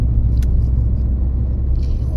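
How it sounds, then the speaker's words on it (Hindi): Cars and other vehicles travelling a highway on the Puri to Sambalpur route, a steady loud low rumble of passing traffic with no breaks, heard from close by. "आप देख रहे हो गाड़ियाँ जो है वो अपने बढ़िया मज़े से चल रही हैं"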